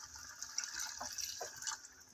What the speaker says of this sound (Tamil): இப்போ தேவையான அளவு தண்ணி